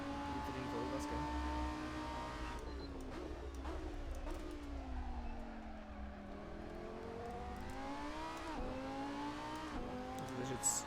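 A race car engine in Assetto Corsa held at full throttle, its steady tone rising and falling through the gears over about eleven seconds, loud and continuous with no speech over it.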